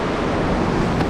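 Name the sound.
large ocean waves at Shelly Beach, Ballina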